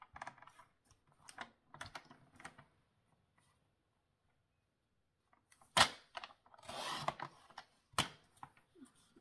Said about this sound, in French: Et hop, je coupe les deux.